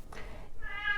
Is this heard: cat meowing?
yes